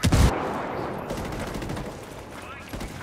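Gunfire in the shooter Ghost Recon Wildlands, a loud opening blast followed by a sustained roar of automatic fire and echoing shots that fills the whole stretch, with faint voices mixed underneath.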